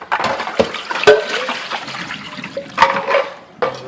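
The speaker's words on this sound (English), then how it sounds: "running water" Water runs from a kitchen tap during ramen preparation, a close, loud splashing stream interrupted by several sharp clatters and knocks of items moved under the flow.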